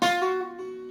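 A single guitar note hammered onto the 8th fret, struck close and clear and left to sustain and fade alone.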